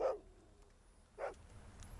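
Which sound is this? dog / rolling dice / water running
dog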